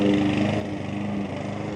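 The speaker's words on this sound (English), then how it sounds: "he's been out here for about 25 minutes mowing the lawn" A lawn mower runs steadily on a large corner-lot yard in a Charlotte-area neighborhood, its engine drone continuous and fairly close, dipping slightly partway through but never stopping.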